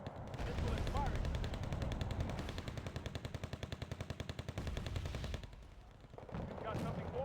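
Video game gunfire with a missile launch: sustained rapid automatic fire rattles continuously for several seconds over a loud, rumbling bed, then breaks off before the noise swells again.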